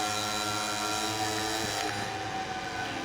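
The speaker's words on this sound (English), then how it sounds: "using the engine braking" Motorcycle engine braking in the MotoGP 21 racing game at Portimão: a steady, loud, high-revving engine drone with dense harmonic whine, shifting pitch slightly partway through as the bike coasts into a corner.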